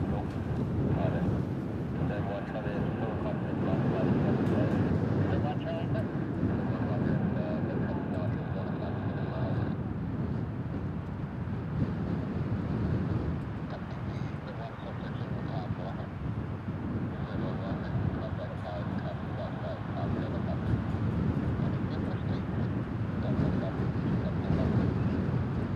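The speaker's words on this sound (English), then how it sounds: "Hear that wind's getting worse and worse and worse." Strong gusting wind roars into the microphone outdoors near RAF Lakenheath, a steady low rumble buffeting throughout, with a person speaking at times underneath.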